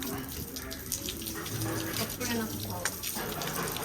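Water gushing steadily from a motor-driven pump, a continuous rushing splash close by, with people talking over it.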